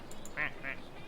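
A person imitates a duck with two short, nasal quacks in quick succession, fairly close and alone.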